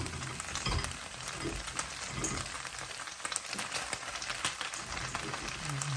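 Bitter gourd (ampalaya) fries with beef in a hot pan, giving a loud, steady, close crackling sizzle throughout with scattered pops and stirring scrapes.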